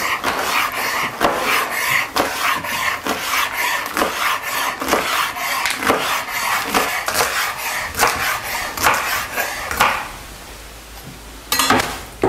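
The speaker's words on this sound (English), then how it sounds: "with the knife slice them in about a 1/4 inch strips" A knife slicing bundled beet green leaves into quarter-inch strips on a cutting board, a steady run of crisp, close chopping strokes with a short pause before a final cut.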